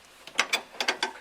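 Ratcheting wrench clicks in quick bursts while the top control arm bolt is driven into a 1993 Foxbody Notchback's independent rear suspension, five crisp metallic ratchet strokes close by with no talk.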